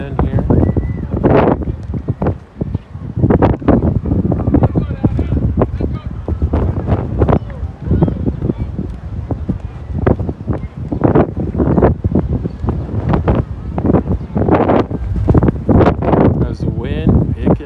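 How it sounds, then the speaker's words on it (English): Gusty wind buffets the microphone at an outdoor high school baseball game, loud rumbling bursts that rise and fall throughout, with a commentator's voice talking over the noise. "I wish we could see how strong this wind is"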